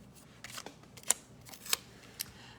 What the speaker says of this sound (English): let's just trim them a little bit with my scissors